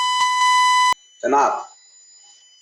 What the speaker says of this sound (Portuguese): No meio da tua fala, está disparando um alarme